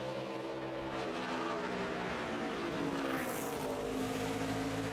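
A NASCAR stock car on a qualifying lap at Bristol in 2009, its engine a steady, moderately loud roar that swells slightly as it sweeps through the corner.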